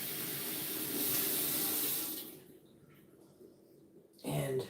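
Water pouring from a tap into a pot holding purple yams, a steady hissing gush that stops midway, leaving quiet room tone before a short rustle and a throat-clearing sound at the end.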